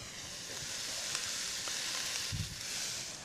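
Onions, peppers and garlic sauté in a pan for a chili, a steady close sizzle with faint stirring scrapes throughout, no talking.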